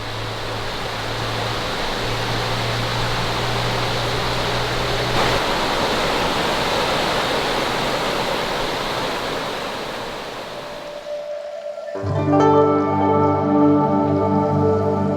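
Steady broadband rush of a river flowing below a treehouse at the foot of a volcano, continuous and fairly loud, with a low hum early on and other tonal sounds joining near the end.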